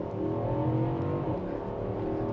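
A 2022 Infiniti QX80 with a 5.7-litre 400 hp V8 launching from a brake-boosted standstill, a steady deep engine drone rising slightly in pitch as it accelerates, heard from inside the cabin.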